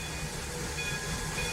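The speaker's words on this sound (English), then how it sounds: "its chugging sounds are just getting a little bit louder as well" A Blue Comet train in the RO-Scale Sandbox video game rolls along with a steady, continuous rumble and faint hiss, low and even throughout, without any voices.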